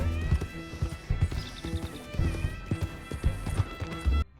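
Horse hooves clip-clop at a steady gait along a path in Red Dead Redemption 2, with rhythmic thuds over ambient game sound, moderately loud and continuous.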